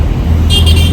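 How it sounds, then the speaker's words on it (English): Busy early-morning road traffic in Delhi, a steady close roar of car engines and tyres with a brief high horn-like tone near the end. "It's 5:30 in the morning and it's full of traffic."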